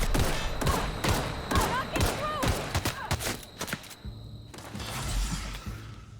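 Rapid gunshots ring out in The Outer Worlds, a string of sharp, loud cracks in quick succession with bright ricochet-like tones, then a brief pause before a softer rumble and one more blast.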